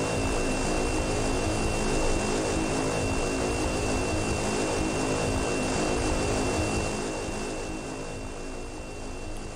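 A Cessna Caravan's turboprop engine in the flight simulator X-Plane 11 drones on as a loud, steady propeller roar with a constant whine above it, easing slightly toward the end.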